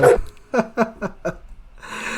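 A small dog gives a quick series of four or five short, yappy barks with brief gaps between them. It is fairly close and clear, with a louder sound at the start and a burst of noise at the end.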